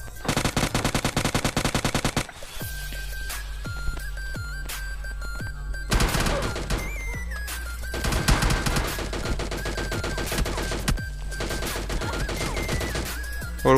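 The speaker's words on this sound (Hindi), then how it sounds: "पीछे से इसका दूसरा बंदा मेरे पे बहुत ही गंदा फायर करता है" Dense automatic gunfire in PUBG Mobile Lite, a rapid burst of machine-gun fire up front followed by repeated volleys and sharp shots over a low game background, loud and close throughout.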